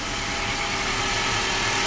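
A 2012 Infiniti QX56 engine idles smoothly and steadily after a starter replacement, a close, even hum with no misses or knocks under a constant broadband rumble, and no voices.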